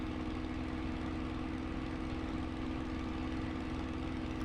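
A Spitfire Mk IX's engine in a VR flight simulator game drones on in a steady, unbroken hum while the plane approaches a dirt strip at low altitude, loud and even throughout with no voices.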